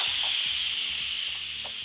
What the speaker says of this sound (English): you can take the steam out manually